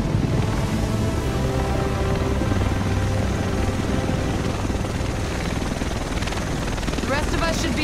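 A helicopter arrives in the video game Tom Clancy's The Division, its rotor chop a loud, steady roar that fills the scene while voices talk over it.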